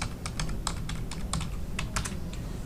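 Steady bursts of typing on a computer keyboard, quick clustered key clicks in an uneven rhythm, close and clear with no talking.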